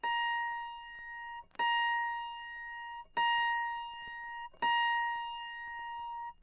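An autoharp string tuned to A sharp in the higher octave is plucked four times at a slow, even pace, each pluck ringing clearly up close and decaying before the next, with no voices.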